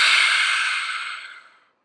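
A single long, breathy exhale during yoga practice, heard close and fairly loud, a soft airy hiss that fades out over about a second and a half into silence.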